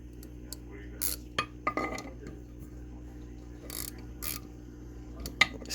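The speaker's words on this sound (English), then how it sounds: "We'll take a regular ratchet and" A hand ratchet running in the bolts on a Coleman CC100X engine during a motor build: sparse metallic clicks and clinks with a few brief ratcheting bursts, fairly close and quiet over a steady low hum.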